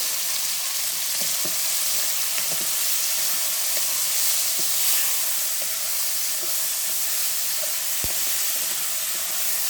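Chicken pepper fry sizzles steadily in a hot pan, a continuous close frying hiss with occasional small pops and a stir, no talking.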